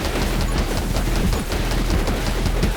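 Rapid gunfire in the survival shooter 20 Minutes Till Dawn, a loud, dense stream of quick repeated shots crackling without pause, layered and steady throughout, with no voices.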